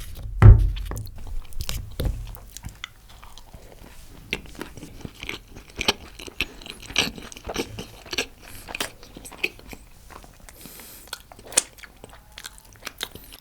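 Close, loud crunching bites and wet chewing of green chillies from a Pizza Hut order, irregular crisp crackles repeating steadily with quieter mastication between them, no talking.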